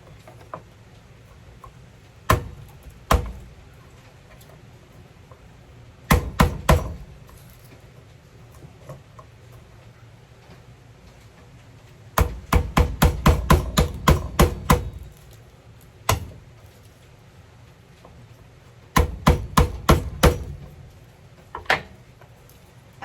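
A knife chopping peeled garlic cloves into small pieces on a board, crisp close taps coming in quick bursts of several strikes separated by pauses, with no talk.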